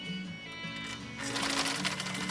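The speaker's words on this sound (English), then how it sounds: "a straight stitch, 2 layers of saddle grade leather" A 1960 Viking Husqvarna CL-21A sewing machine runs a straight stitch through two layers of saddle-grade leather, a steady close mechanical whir that grows louder and busier partway through, with no talk.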